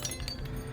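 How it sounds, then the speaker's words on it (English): A glass object dropped on the floor gives a brief, faint clinking and shattering, with sharp tinkling hits over a low background hum. "drops something on the floor that just shatters"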